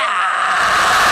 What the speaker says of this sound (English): He was kind enough to do some scream vocals for this, so then I'm just triggering those vocals and also distorting them a bit.